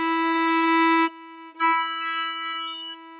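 A single violin E note played with the first finger on the D string, bowed clearly and alone for about a second, then a softer second bowed note after a brief pause.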